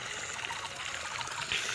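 Water running from a connected pipe into a watermelon field, a steady trickling, splashing flow heard close and continuous, with no voices.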